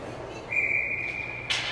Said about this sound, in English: Must have been a whistle for offsides.